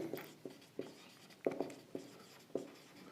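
Coordinates being written out during a class 10 coordinate geometry maths lesson: a quick series of about eight short scratchy strokes in uneven rhythm, close and fairly faint, with no speech.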